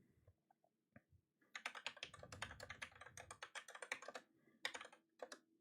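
Fingers type on a computer keyboard in a quiet room: close, quick, uneven key clicks in short runs, with a few isolated taps at the start and a brief pause near the end.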